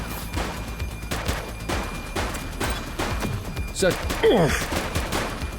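A police shootout in The Precinct video game, with a series of sharp gunshots popping close at an uneven rhythm while a voice speaks briefly among them.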